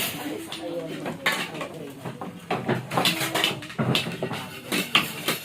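Spoons and plates clatter at a busy gathering, with repeated close metallic clinks and knocks of cutlery against dishes. The clatter is irregular and fairly loud, and voices are heard faintly in the background.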